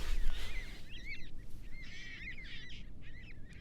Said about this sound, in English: This is the yellow-tailed black cockatoo.